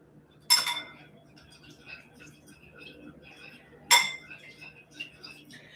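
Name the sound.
mixing ingredients with ginger in a bowl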